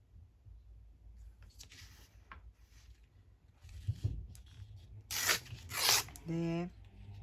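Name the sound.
tearing a paper book page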